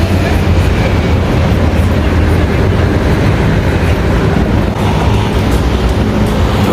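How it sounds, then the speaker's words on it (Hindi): A long tram-like bus rolls along a street in Geneva, Switzerland, on a hot day, producing a loud, steady, broadband rumble and roar of passing traffic that fills the whole stretch without letup. "ये भी एक लंबी बस है, ट्राम टाइप की आप देख रहे हैं।"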